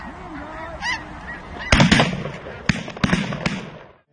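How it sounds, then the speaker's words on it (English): Snow geese honk in a loud, busy flock on the Minnesota prairie, their calls overlapping near and far, broken by several sharp cracking bangs like shotgun blasts. "we've seen a lot more snow geese moving through Minnesota"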